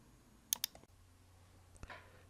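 A computer mouse button clicked twice in quick succession, sharp and close, followed by faint light taps against a low electrical hum in a quiet room.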